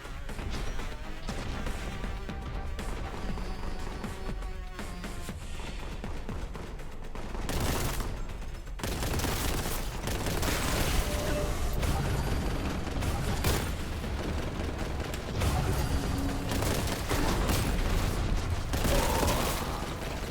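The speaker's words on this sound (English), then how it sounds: "Oh, someone's shooting at me." Heavy gunfire in a Warhammer 40K battle game: dense bursts of shots, crashes and mechanical clatter fill the whole stretch, loud and continuous, with brief lulls between volleys.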